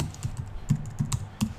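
Someone types a web address on a computer keyboard, a quick irregular run of soft key clicks and taps, close by and without any talk.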